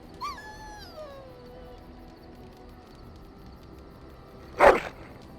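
A dog in Dragon Age: Origins gives a thin, falling whine at the start, then one loud, sharp bark near the end over a quiet background hum.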